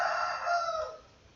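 A rooster in a neighbourhood full of chickens crows once in the late afternoon, a single drawn-out call that fades toward the end, heard alone and at moderate distance.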